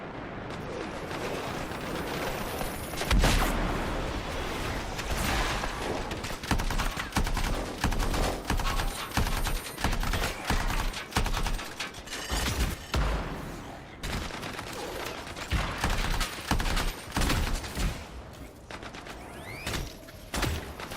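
Enemy gunfire in the video game Anthem, a dense, continuous fusillade of overlapping shots and bursts lasting throughout, loud and chaotic, with occasional heavier thumps.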